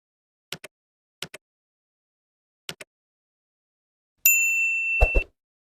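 A notification bell rings as one bright, sustained ding, following three pairs of soft, quick clicks in an otherwise silent stretch.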